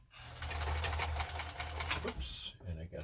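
A Kenmore 10 Stitch sewing machine runs steadily as it stitches a bar tack, a continuous close mechanical whir and patter that slows and stops near the end.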